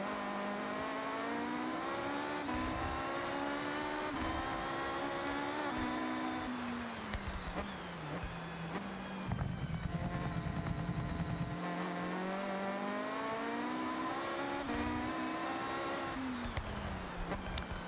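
Engine of a car drifting in Forza Horizon 6, a sustained loud revving roar that climbs and falls in pitch as the car slides, with no voices over it.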